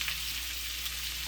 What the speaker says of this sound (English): I had the hamburger meat frying up already